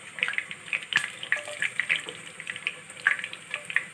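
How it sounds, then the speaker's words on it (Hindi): Whole garlic cloves and round dried red chillies, six or seven of them, sizzle in hot oil as a tempering for Pakistani sarson ka saag, with a dense, steady crackle of sharp spitting pops close by. "गरम ऑयल में हम साबुत लहसुन के जवे और साथ में गोल सूख मिर्चें जो हमने 6 से 7 अदद डाल चुके हैं"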